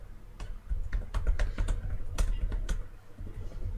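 Fast typing on a computer keyboard during an online chess session: a close, continuous patter of key clicks with irregular bursts and louder strokes, over a low background rumble.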